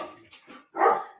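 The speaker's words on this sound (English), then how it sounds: "I'm just gonna sort the dog out." A dog barks indoors, a short run of quick, close barks with one louder, fuller bark after a brief pause.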